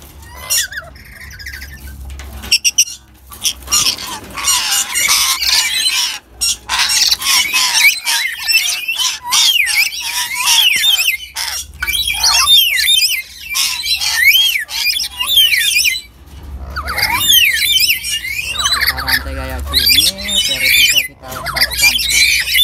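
A chained black-capped lory squawks loudly and repeatedly in harsh, raspy bursts with short gaps, close by outdoors.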